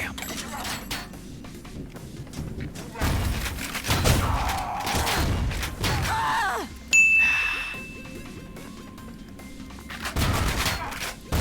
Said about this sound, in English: the shotgun seems to be reasonably effective at long range